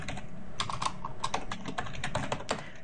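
Rapid clicking keystrokes on a computer keyboard, close and steady, with no voices.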